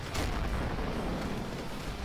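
A flashbang grenade goes off in a multiplayer shooter match, a loud sustained blast with rumbling low-end filling about two seconds, dense and continuous rather than a single sharp crack.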